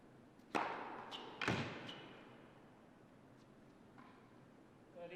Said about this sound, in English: Booming serve.